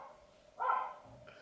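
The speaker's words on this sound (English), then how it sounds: "My dog is angry with the world again" A single indoor dog bark, fairly faint and brief, with a short trailing yip after it against a quiet room.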